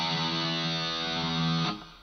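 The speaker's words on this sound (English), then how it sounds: "for the lead guitar, I've got plenty of distortion and a wah-wah pedal" Distorted electric guitar sustaining an open low E note through a wah-wah pedal, a dense buzzing tone holding steady for over a second and a half, then cutting off and fading as another note starts.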